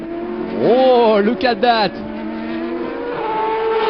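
Nissan World Series race cars at Zolder in 2004 go side by side in a drag race, their engines revving hard and rising in pitch as they pass close by, while a commentator speaks over them.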